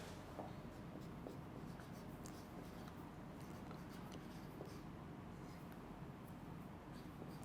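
Pen or marker writing during a statistics lecture, a faint, continuous scratchy stroking with small irregular taps, heard alone at low level.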